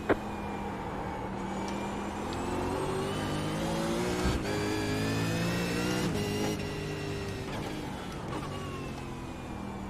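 V8 Supercar engine in the iRacing game at Oran Park, a loud, steady racing engine note rising and falling through gear changes and revs, continuous and close throughout, no talking.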